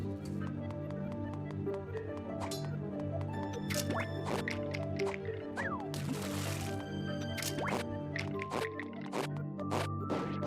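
Water draining away in Zelda: A Link Between Worlds, heard as steady game sound with repeated drips and liquid plinks over a sustained musical bed, with a brief rushing splash midway, all fairly quiet.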